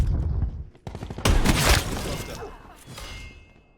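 MOG 12 shotgun blasts in a video game, a loud burst of heavy booming fire that fades out into a lingering tail, with faint game noise around it.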